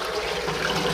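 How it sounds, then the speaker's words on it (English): Water from boiled potatoes pours off in a steady, close splashing rush, continuous and fairly loud with no speech over it. "You want to drain these potatoes, get all the water off of them."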